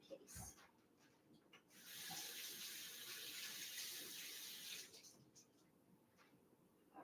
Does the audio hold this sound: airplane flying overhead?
no